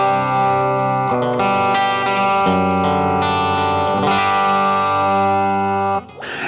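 A guitar run through an MD 500 pedal set to a rotary effect, sustained chords swirling with fast warbling modulation, loud and steady before cutting off near the end.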